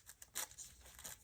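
Paper being torn by hand for a collage, a few short dry ripping bursts, close and faint, with no talk.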